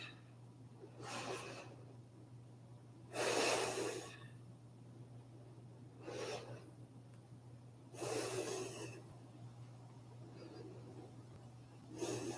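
Slow, deep breaths during a yoga flow, faint and distant, several soft airy swells rising a few seconds apart over a steady low hum in a quiet room.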